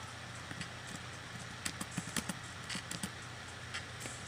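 Faint, irregular clip-clopping of horse hooves in the Homestuck video game, about a dozen soft knocks clustered over a low steady hum.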